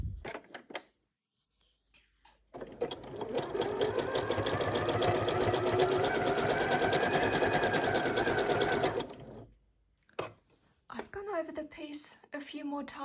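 A sewing machine stitches with coloured thread in a rapid, even chatter that runs for several seconds, preceded and followed by quieter pauses and brief handling noises.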